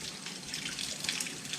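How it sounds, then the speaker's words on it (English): Steady water pouring and splashing as a pea plant is rinsed in clean water, a soft continuous trickle without speech. "Why don't I rinse it off in this clean water over here?"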